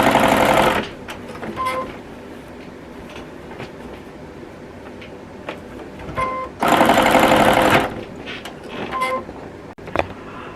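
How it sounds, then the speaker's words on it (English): A sewing machine stitches binding onto a quilt, with bursts of fast, steady whirring at the start and again in the middle, separated by quieter pauses and small clicks. "line it back up and just continue to sew on the binding"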